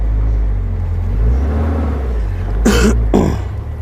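Small safari truck with a wide turning circle driving along, a continuous low engine rumble throughout, with two short breathy bursts late on, close and steady.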